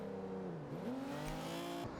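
Hyundai Genesis engine in Forza Horizon 2, a close, tonal revving note that dips and climbs again as gears shift, brief and steady in loudness.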